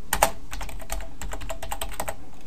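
Rapid, steady typing on a computer keyboard, a dense run of crisp key clicks close to the microphone with no voices over it.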